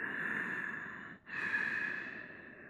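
Close, airy breathing in a crescent yoga lunge: a long exhale, a brief pause, then another long breath that slowly fades.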